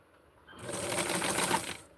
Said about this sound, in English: I am going to sew it and be very careful about my hand on the other side that I have the iron